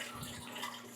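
Water from an aeroponic grow tower runs and splashes in a soft, steady rinse, faint and continuous for a moment, with no talk.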